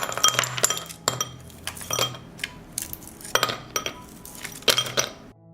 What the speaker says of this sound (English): I put the frozen cubes with seeds in a bowl.